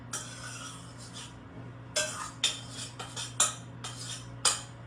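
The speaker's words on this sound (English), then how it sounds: "let me get these dishes out of the way to make some more room. So I'm going to put these in the sink" Dishes and cutlery clink and clatter as they are cleared from a kitchen counter and set in the sink, a run of sharp knocks in uneven rhythm, close by and moderately loud over a steady low hum.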